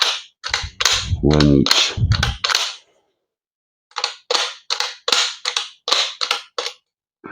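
A double-barrel airsoft pistol fired in single-shot mode, giving a run of about six sharp, loud snaps in quick succession. A pause follows, then roughly nine more evenly spaced shots, and a short spoken word comes in near the start.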